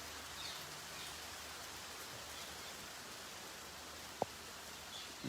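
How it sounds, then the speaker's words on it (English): Rain falls steadily in Vrindavan, India, as a faint even hiss, with one sharp tap near the end and no voices. "Enjoy the rain in Vrindavan Dham."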